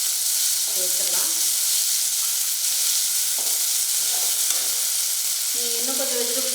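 Onion, tomato and mixed vegetables stir-fry in a pan for masala, giving a loud, constant sizzle close up, with a few brief scraping stirs of a spoon through the mix.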